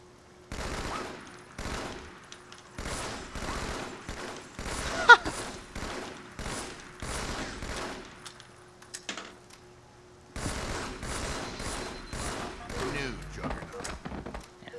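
Rapid gunfire from the Halo 2 video game, from a player firing out from a stationary spot near a wall: repeated bursts of clattering shots in dense rhythmic volleys, a pause of near silence, then more bursts, with speech mixed in.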